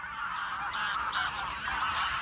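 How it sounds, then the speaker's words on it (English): Wild geese, including greylag, bean and white-fronted geese, honk continuously in a dense, overlapping flock chorus that sounds steady and fairly close, with no other sounds breaking through. "The wild geese are back."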